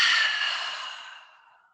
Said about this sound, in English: as you exhale, option to bend into the elbows and breathe out through your mouth